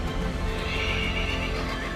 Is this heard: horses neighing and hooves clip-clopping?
yes